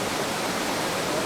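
The Yellowstone River plunges as a waterfall in the Grand Canyon of the Yellowstone, heard as an even, unbroken roar of rushing water that stays at one level throughout, no voices.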